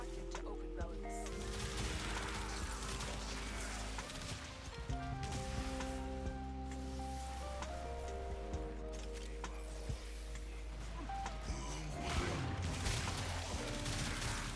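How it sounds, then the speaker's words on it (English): A turret blasts away in an action video game, a dense, continuous barrage of rapid, loud shots layered over game music and effects, with a voice announcing prompts partway through. "This turret goes pretty hard."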